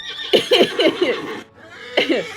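Horse whinny played as a sound effect during a tabletop game session, a loud close neigh with a quavering, wavering call, a short pause, then a second brief whinny.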